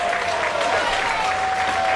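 A wrestling crowd at a Jonathan Gresham vs Chris LeRusso match cheers and applauds in a dense, steady roar with a thin whistle running through it, loud and continuous throughout.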